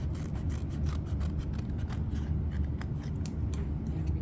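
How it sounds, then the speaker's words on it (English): Scissors cutting thick paper to shape the head of a folded paper bird: a quick, steady series of crisp snips and rasping slices, close and loud, with no talking. "So now I'm just cutting out my head shape."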